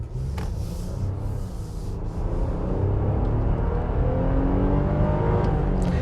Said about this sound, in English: Let's do another acceleration here as we have to merge in.